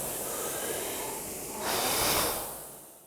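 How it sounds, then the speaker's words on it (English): Controlled breathing of a rower on a rowing machine, taking one breath per full stroke: a long steady airy exhale that swells into a louder rushing breath, then fades, close and alone. "you may just want to take one breath per full stroke"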